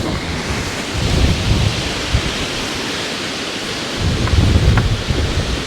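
Strong wind blowing hard at a rocky shoreline fishing spot, a loud continuous rushing roar buffeting close with surging gusts, no voices.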